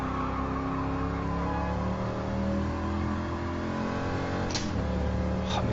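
Gran Turismo Sport car drifting around a track, its engine droning steadily with rising and falling pitch and a skidding hiss. Short sharp scraping bursts come near the end.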